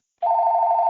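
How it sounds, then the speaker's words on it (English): A telephone rings on a podcast set, a single clean electronic tone that starts abruptly after a brief silence and holds steady and loud to the end. "we're getting a phone call"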